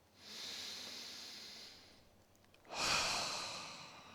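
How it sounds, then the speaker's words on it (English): A big, deep breath drawn in slowly through the airway for about two seconds, then a brief pause and a strong, hissing exhale, close up and alone. "I want you to take a big breath."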